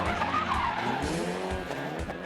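Cars skidding during an amateur motor club race held in a stadium parking lot, with loud continuous tire squeal and engine roar, the pitch of the screech sliding as the cars slide close by.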